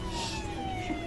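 A wailing ambulance siren sounds at a moderate distance, its steady tone sliding slowly downward over a low background rumble.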